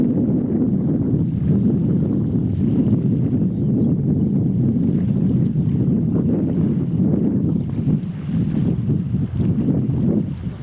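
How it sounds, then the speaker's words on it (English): Strong, steady wind roars across the microphone at Wormit harbour in Fife, a dense low rumble that barely lets up for the whole stretch and dips slightly near the end. "I hope the wind isn't frightening us too much."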